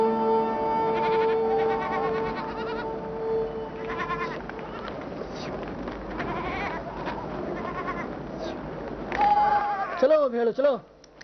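Sheep bleating while being herded, several overlapping wavering bleats near and loud, mixed with a voice calling to the flock, with a cluster of sharp bleats at the end.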